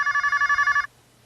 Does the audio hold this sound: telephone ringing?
yes